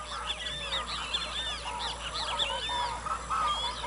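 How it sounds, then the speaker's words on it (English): Several species of wild duck calling together on the Llanos plains of the Orinoco, a dense chorus of overlapping whistles and squeaky honks, fairly close and continuous over steady background hiss. "Different species of duck, much prized by hunters in the Llanos."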